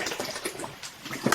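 Water poured into a glass for a drink during a casual podcast chat, a short soft splashing trickle over about a second, close and fairly quiet.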